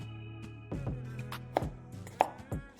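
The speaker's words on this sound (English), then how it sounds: "we're not gonna use all this onion. So we'll go ahead, cut that down the middle" A knife slicing an onion down the middle on a cutting board, a few distinct close chopping knocks spread across a couple of seconds against a quiet background, no speech.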